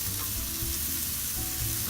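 Rice frying in a generous amount of butter on a stove, giving a steady, close hiss and crackle with faint stirring, and no one speaks.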